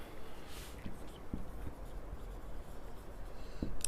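A teacher writes on a classroom board, producing faint scratchy strokes and light taps in short bursts against a quiet room.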